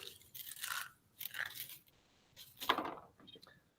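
Eggshells crushed by hand give off four short crackly bursts close to the mic, quiet and brittle, with brief pauses between each squeeze.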